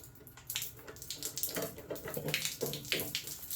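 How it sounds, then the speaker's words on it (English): Water leaking and dripping from broken pipes under a toilet being replaced, an uneven stream of splashes and patters close by, fairly loud and continuous, no talk. "I've got water coming down out of every orifice through here"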